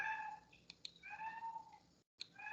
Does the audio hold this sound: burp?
no